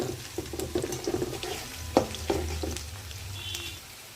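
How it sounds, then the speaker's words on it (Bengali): Three dried chilies sizzle softly in hot oil for bottle gourd greens, a steady low crackle with small pops and stirring clatter, fairly quiet and without talk. "কিছুক্ষণ ভাজা হবে হালকা ব্রাউন কালার, তারপর সবজিটা মিশাবো"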